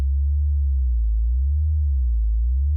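A pure synthesizer sine wave holds a steady C note, smooth and tonal with no overtones, sounding alone and even throughout before a brief cut at the end.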